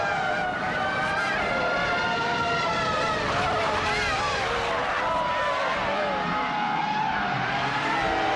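Race car engines from a racing video game, a Williams FW20 among the field, drone steadily with shifting whining pitches throughout, with faint talk underneath.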